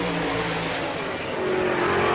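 Ford-powered number 63 sprint car with a big Ford engine on a qualifying lap at an All Star Circuit of Champions dirt race, a loud sustained engine roar that shifts pitch slightly as the car passes, heard alone without talk.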